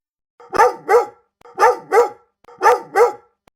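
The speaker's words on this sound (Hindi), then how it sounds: "काका का वफादार कुत्ता शेरू वहां पहुंच गया और जोर जोर से भौंकने लगा।" A dog barks loudly and close by in three quick pairs of sharp barks, separated by short pauses, with no talking.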